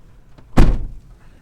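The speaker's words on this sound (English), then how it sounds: "the passenger door opens from the inside" A truck's passenger door opens during a Class 4 pre-trip inspection, a single close, solid clunk of the latch and door swinging free, alone in an otherwise quiet moment.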